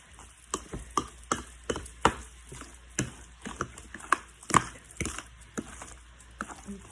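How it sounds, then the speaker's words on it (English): Ingredients for an Easter dinner stirred in a bowl, with a series of distinct, irregular knocks and scrapes of the utensil against the bowl, moderately close and unaccompanied by talk. "I'm still mixing, getting my stuff all the way I want it"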